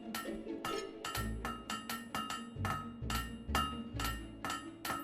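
Sharp metallic hammer strikes ring out on a blade at a forge in the video game Fable 3, a dozen or so clanging blows in an uneven rhythm, close and clear with no talking.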